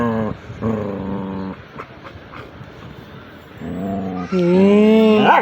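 Kalu the dog growls while eating a biscuit: a few harsh, rising growl-whines separated by chewing and quiet gaps, ending in a louder, longer whining growl, close up with no talk.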